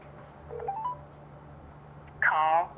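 Series of telephone keypad DTMF tones during a call to a scam caller, a few short beeps followed by a louder, longer burst of tones near the end.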